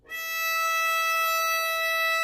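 A single sustained violin note on the open E string, bowed steadily and evenly at moderate volume, rich with bright overtones and no voices.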